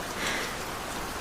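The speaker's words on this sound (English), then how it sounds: "The rain is nice tonight." Steady late-night rain falls in an even, close hiss, a soft continuous wash that neither builds nor fades and has no voice over it.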